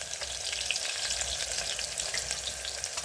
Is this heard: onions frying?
yes